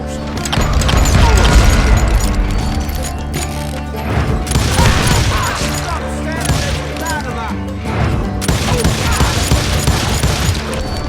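Hired guns in a video game open fire in a dense, chaotic fusillade of shots and booms layered over music and clanking mechanisms, loud and continuous, with a voice speaking over the din.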